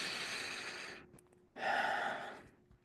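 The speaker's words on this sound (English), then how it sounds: "Breathe it in." A person takes slow, deep breaths in and out during a guided grief meditation: a long airy breath, a pause, then a second fuller breath, close and soft with no talking.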